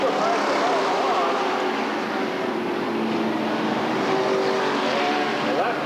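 Race cars roar around the track at Redwood Acres Raceway in 1989, a steady, loud wash of engine noise from a pack of cars, with a commentator talking over it throughout.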